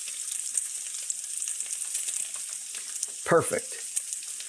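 Bacon frying in a pan, a continuous bright crackling sizzle with popping spatters, close and steady, while someone briefly speaks over it.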